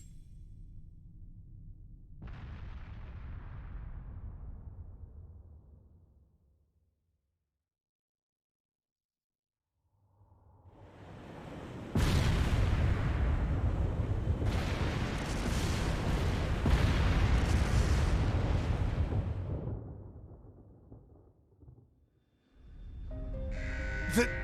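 Explosions set off by a detonator in the video game Trails of Cold Steel III, heavy rumbling booms swelling into a long, loud roaring blast with quieter stretches and silence between.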